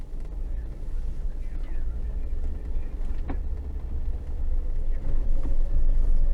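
Steady low road rumble from inside a moving car heading out of town, a continuous close drone with faint passing noises and a brief thump midway, no talk.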